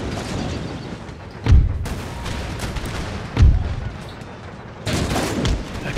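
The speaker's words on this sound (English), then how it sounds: "Let's get the artillery firing on these guys." Heavy artillery booms out in an Empire: Total War battle, three loud deep blasts spaced about two seconds apart over a constant rumble of musket fire and battlefield noise.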